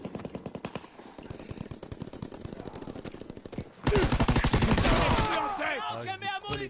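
STG 44 assault rifle firing in Call of Duty: WWII, rapid bursts of close, loud automatic shots, then a dense sustained volley over a shorter, choppier stretch of gunfire.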